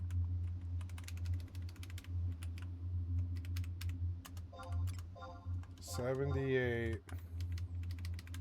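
Clicky typing on a Royal Kludge computer keyboard, a steady run of sharp key taps close by, with a person speaking briefly partway through and a low steady hum underneath.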